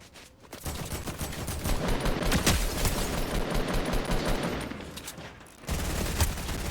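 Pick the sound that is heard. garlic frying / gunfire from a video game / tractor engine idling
gunfire from a video game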